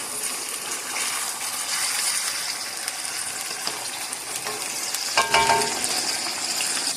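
Ginger garlic paste sizzling steadily in a hot pan while cooking achari moong daal, a continuous close frying hiss with a brief clatter of stirring near the end.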